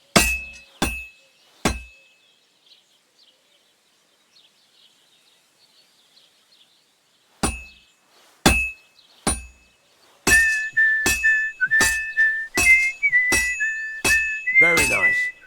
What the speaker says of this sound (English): You've got to hammer the workpiece evenly.